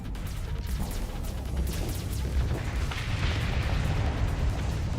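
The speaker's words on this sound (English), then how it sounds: "Missiles impact." Missile impacts in the Starsector space game merge into a dense, rumbling barrage of overlapping blasts and crashes, loud and continuous with a few sharper bursts, without speech.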